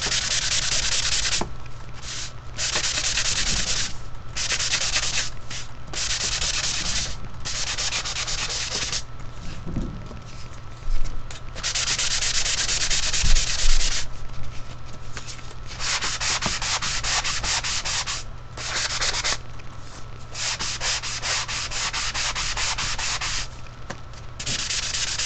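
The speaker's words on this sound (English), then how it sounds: "And then I'm going to go ahead and sand those out." Scrapbook craft pieces being sanded by hand, a long run of steady rasping strokes broken by short pauses, close and fairly loud with no talking.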